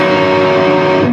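A distorted electric guitar plays a brief riff with the first fret of the G string wrongly fretted, a single loud sustained dissonant chord ringing close and alone.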